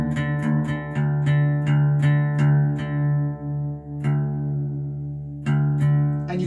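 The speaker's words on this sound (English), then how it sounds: "And down the E string goes." A guitar's low E string is plucked again and again while being tuned down to drop D, a steady droning note beside a repeated higher reference pluck, then it rings out, and the string is struck again at the end.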